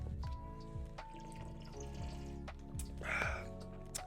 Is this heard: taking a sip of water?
yes